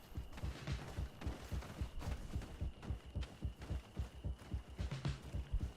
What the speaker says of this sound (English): Yeah, I could really do without all this heartbeat.